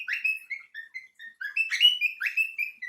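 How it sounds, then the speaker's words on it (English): Pet bird giving bright, quick chirps and whistled notes, close by and alone in a short varied burst, with no background noise. "There go my bird, y'all."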